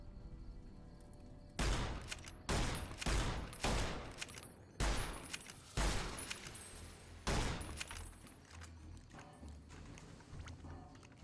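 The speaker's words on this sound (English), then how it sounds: "I'm shooting them from very far away" Enemies are shot from far away in Fallout New Vegas: a series of sharp, loud gunshots spaced about a second apart, each with a ringing tail, then quieter scattered shots toward the end.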